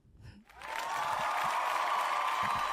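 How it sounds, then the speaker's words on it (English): Crowd cheering and applause rise sharply after a brief quiet start, then hold as a steady, loud wash of clapping and cheers with no talk over it. "Found it. The cheer."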